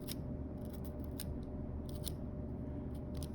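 Kitchen knife carving into a raw potato, giving sharp little snipping clicks in irregular short bursts that sit over a steady low background hum.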